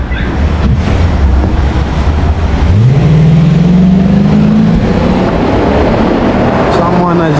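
Cars drive out through gates on a Moscow street, with a loud engine rising in pitch as one accelerates past, heavy wind buffeting the microphone, and someone talking over it.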